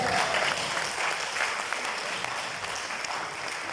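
A crowd claps steadily at a book launch, dense and even applause that stays loud and fades slightly toward the end.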